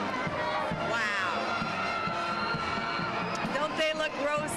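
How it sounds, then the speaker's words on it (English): A parade crowd at a Festival of Lights event cheers and shouts continuously, a dense wall of voices with children's yells and whoops rising above it, loud and sustained throughout. "Oh, listen to the crowd."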